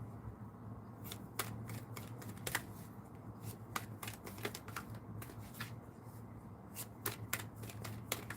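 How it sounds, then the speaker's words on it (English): Angel Answer oracle cards are shuffled by hand in a steady stream of crisp riffling clicks and snaps, close and fairly quiet, with no talking. "I'm going to pull you an Angel Answer card"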